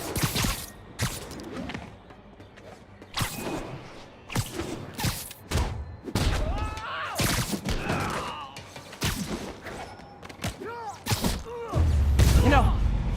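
Gunfire from armed enemies in Marvel's Spider-Man on PS4 crackles in repeated bursts amid heavy thuds, crashes and impacts, with voices talking over the chaotic fight.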